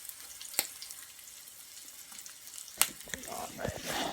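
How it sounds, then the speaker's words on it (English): Mule deer testicles frying in oil on a stove make a faint, steady sizzle with a few sharp pops and clicks, then a busier patch of crackling near the end. "now we've got our testicles cooking in the oil"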